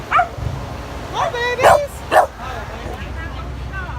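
Puppies at a pet rescue booth bark and yip in a few short, close bursts with whimpering between them, while a woman greets them warmly.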